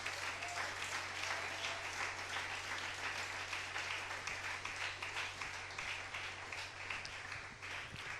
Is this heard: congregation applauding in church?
yes